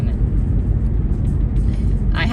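A Subaru car being driven, with a steady low engine and road rumble filling the cabin continuously, a brief brighter hiss near the end.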